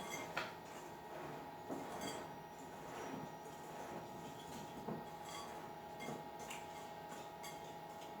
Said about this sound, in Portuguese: Com a ajuda de um fouet, eu vou misturar aqui